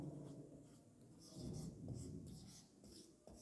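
A pen or chalk writes out a definition, with soft, scratchy strokes in short bursts and brief pauses, faint and close.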